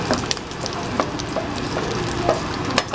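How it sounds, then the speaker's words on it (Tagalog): Garlic and onion sizzle steadily in a hot pan while being sautéed for kaldereta, with occasional scrape and clack of a utensil stirring. The sound is close, with no talk. "igigisa ko muna yung bawang sibuyas"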